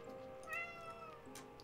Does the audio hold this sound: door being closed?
no